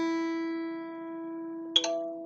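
A guitar's low E string rings in tune as one sustained, steady note, with a brief quiet click and rattle near the end.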